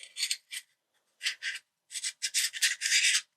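Plastic parts of a Koss KSC75 headphone being screwed together by hand, a series of short dry scraping rubs in uneven bursts with brief pauses between turns, close and alone.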